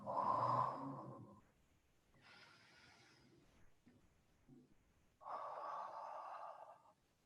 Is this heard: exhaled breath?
yes